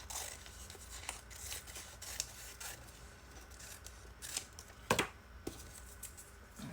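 Scissors snipping through fabric strip scraps, a series of short crisp cuts with small rustles between them, close up and fairly quiet with no one talking.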